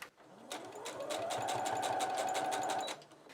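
A sewing machine runs steadily for about two seconds, stitching fabric bunting flags onto bias binding in a close, even mechanical whirr that starts and stops cleanly, with no talk.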